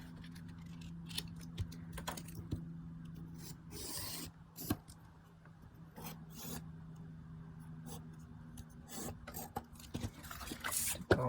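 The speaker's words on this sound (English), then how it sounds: "let me very quickly cut another piece" Card being cut for a handmade blackboard tent card, with close scraping and rasping strokes, irregular snips and rustles over a low steady hum, no voices.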